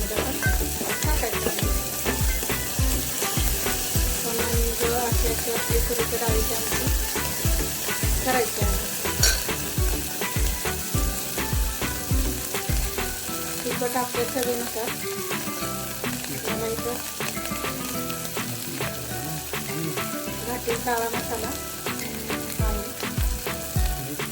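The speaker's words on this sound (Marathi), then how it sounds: "आधी लसूण पेस्ट टाकून टाकायची आहे" Garlic paste and onion-garlic masala frying in a pan for a Marathi tur and moong dal amti. A loud, steady sizzle runs throughout with constant stirring scrapes.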